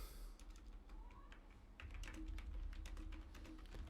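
Soft clicking keystrokes on a computer keyboard, an irregular quick patter of taps close by over a low background hum, with no talking.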